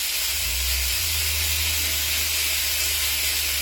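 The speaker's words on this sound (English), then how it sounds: "we're just going to let our meat brown real good" Beef rib pieces browning in a pot for chili, with onions around the edges, giving a steady, close hiss of searing meat that holds evenly throughout with no voices.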